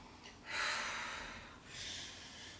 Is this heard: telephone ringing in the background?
no